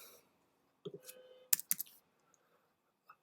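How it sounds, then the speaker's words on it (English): A few sparse clicks on a computer keyboard, faint and close, with a short cluster of sharp taps in the middle and long quiet gaps around them. "So let me just type that out quickly."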